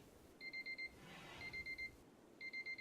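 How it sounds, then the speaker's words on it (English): A digital timer alarm goes off in three bursts of rapid, high electronic beeps, each burst of about four quick pulses with short gaps between, over faint room noise. "that's my timer telling me that I have talked way too long"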